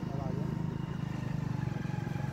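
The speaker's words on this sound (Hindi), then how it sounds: "सामने से ट्रैक्टर आता हुआ है" A tractor approaches along a village road in Karnavas, India, its engine a loud, close, steadily throbbing rumble that runs throughout.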